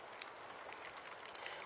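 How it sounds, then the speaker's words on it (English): Heavy rain falls outdoors as a steady hiss of many drops striking surfaces, a dense, even patter at moderate level with no pauses. "it's beginning to rain quite heavy"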